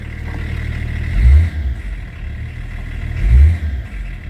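A BMW M51 325 TDS diesel engine idling with a clattering rumble, then revved twice, each blip a short swelling roar that falls back to idle.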